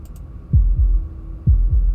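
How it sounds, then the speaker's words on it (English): Two slow, deep double heartbeats thud in a Slay The Princess game scene, each a close lub-dub pair over a low steady hum, with no one talking. "That was the sound of a heartbeat."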